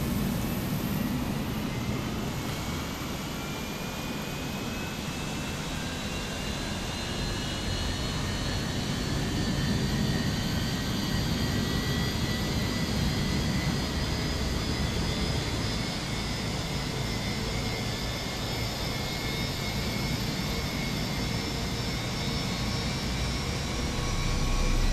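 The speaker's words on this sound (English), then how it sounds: "Engine 2 should probably be finished firing up in just a second." Jet aircraft engine spooling up after pushback on a Nashville flight, a steady broad roar with a faint rising whine, heard from inside the cabin and fairly quiet, no talking.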